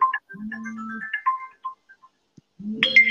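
A mobile phone ringtone chimes during a live broadcast in short melodic bursts of tones, with gaps between the phrases, clear and fairly close, then starts its tune again.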